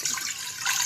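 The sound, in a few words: water poured into a pan for kahwa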